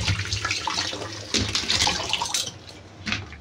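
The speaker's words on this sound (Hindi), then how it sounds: "यहाँ पे आलू धो लेती हूँ" A kitchen tap runs steadily while potatoes are washed under it, with constant splashing and gurgling of water over the vegetables and sink for several seconds, close and fairly loud.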